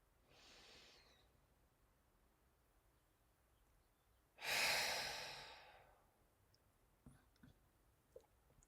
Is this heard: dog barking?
no